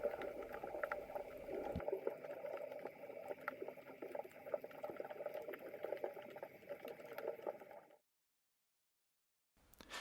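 Underwater ambience 1.5 metres below the surface over sand: a continuous bubbling, hissing wash of water, close and steady, that cuts out abruptly into near silence before a brief return.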